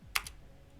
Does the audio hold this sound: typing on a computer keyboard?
yes